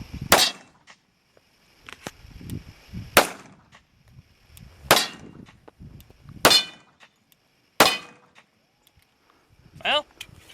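A modified Springfield 1911 pistol test-fires about five sharp, loud shots spaced a second or more apart, each a crisp crack with a ringing metallic tail, with low talk and movement between rounds.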